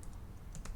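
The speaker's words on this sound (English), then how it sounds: "you can name your own node by typing the name here" A few quick keystrokes on a computer keyboard, soft and nearby, with light clicks in a short burst and no voices.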